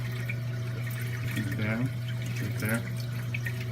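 Water sloshing and splashing from a wave maker in a 90 gallon mixed reef aquarium, a steady wet wash over a constant pump hum, with a voice speaking briefly.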